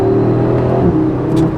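An Audi RS3 8Y engine, loud and close, rises and settles through a downshift. A steady harmonic drone shifts pitch partway through, and there is no talk over it.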